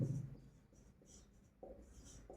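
Pen scratching on paper in short bursts of close, soft strokes with brief pauses between them, during a handwritten math exercise.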